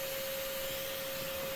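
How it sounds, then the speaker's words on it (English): A vacuum cleaner runs steadily and close by with a constant whine and rushing airflow, sucking up yellow jackets that return to a cabin space after their nest has been removed. "just continue vacuuming up the ones coming back into the space"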